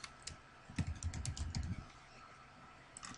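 Typing a notebook name on a computer keyboard: a quick burst of close, soft key clicks for about a second, then quiet with a couple of faint taps near the end.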